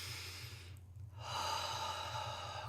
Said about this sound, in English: take a couple deep breaths with me